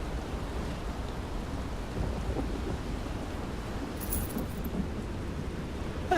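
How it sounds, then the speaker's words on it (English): Steady rain-and-thunderstorm ambience from an Elder Scrolls video game in Tamriel, a continuous dense rumble and patter at moderate level with no clear isolated thunderclap, unbroken throughout. "Must be all this storm, this lightning storm that did that."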